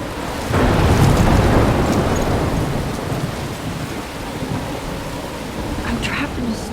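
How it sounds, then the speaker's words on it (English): Thunder rumbles over steady rain during a thunderstorm in the video game Life is Strange, a deep swelling roar early on that fades into continuous rainfall, with a voice speaking over it. "I'm trapped in a storm?"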